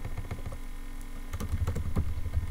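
Rapid, uneven keystrokes rattle on a computer keyboard as a command is typed, the tapping growing denser and louder partway through, with no speech over it.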